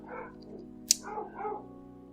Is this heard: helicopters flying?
no